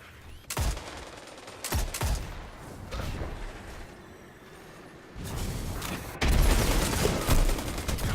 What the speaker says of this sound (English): Fucking shotgun.